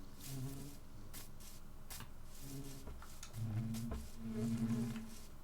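Bees drone around a hive in a video game, a soft low buzzing hum that swells and fades in pulses over faint background clatter, fairly quiet, with no talk.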